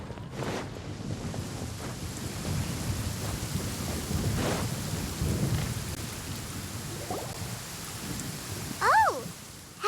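Thunderstorm in the Genshin Impact world of Sumeru, with steady rain hissing throughout and low rumbles of thunder rolling beneath it, plus a few sharper cracks, before a brief tonal game sound near the end.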